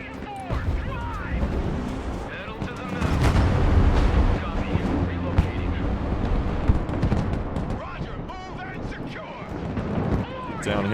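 Artillery bombardment in the strategy video game Broken Arrow, with rolling explosions and gunfire thudding steadily beneath continuous game noise while someone talks over it.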